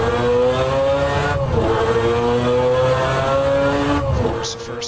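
Mazda 787B rotary-engine Group C race car in a racing video game, lapping Laguna Seca: a loud, sustained high-pitched engine whine with steady harmonics and a pitch dip around a shift, as if heard from onboard.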